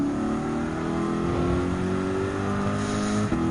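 A Ferrari and a Lamborghini Huracan Group 4 race car roar in Gran Turismo 7, a loud sustained engine drone climbing steadily in pitch before a brief break near the end.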